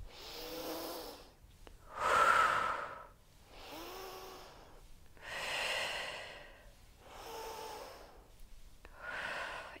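Slow, audible breathing in and out during a Pilates shoulder exercise, several long breaths a few seconds apart, close and steady, with no talking.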